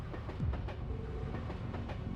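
Video game train from Trails to Azure running steadily along its track, a continuous low rumble with faint rhythmic clatter throughout, close and even, no voices.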